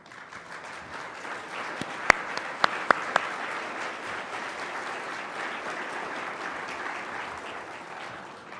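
A conference audience applauds to welcome a speaker, steady and moderately loud clapping from a crowd in a hall, with a few sharp nearby claps standing out early on.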